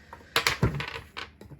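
Coins or cash set down on a table during a dice game, a few quick clinking taps and a soft thud close by, with no voices.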